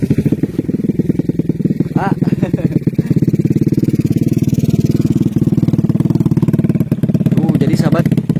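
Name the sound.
motorcycle passing on a narrow village road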